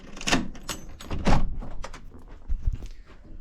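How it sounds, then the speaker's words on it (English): A front door is unlocked and opened up close: a series of sharp clicks and thunks from the lock and handle, then a heavier knock as the door swings, with no talking. "The front door has been unlocked."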